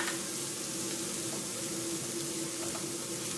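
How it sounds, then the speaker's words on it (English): Anchovies and breadcrumbs frying in a hot pan give a steady, dense sizzle, close and continuous without pause, with no talking over it. "I want those anchovies to cook up nicely and incorporate into the breadcrumbs"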